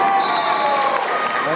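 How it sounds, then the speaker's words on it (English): An enthusiastic Lakeshore home crowd cheers and applauds at a demolition derby game against Portland, a dense steady roar with a commentator talking over it. "you can hear an enthusiastic Lakeshore crowd rooting on their home team"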